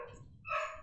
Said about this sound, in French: il va se calmer ce chien